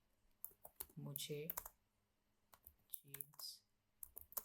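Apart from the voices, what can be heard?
typing on a computer keyboard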